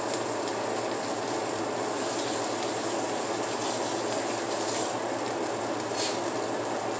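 Turkey sausage fries in a pan with an even, continuous hiss of sizzling fat that holds steady throughout, with no voices.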